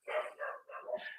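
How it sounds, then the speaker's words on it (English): A puppy and another dog yelp and bark in a short, high-pitched burst of two or three quick calls, faint and close by with no talk over them. "I have a puppy and another dog yelling."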